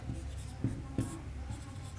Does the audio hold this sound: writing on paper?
yes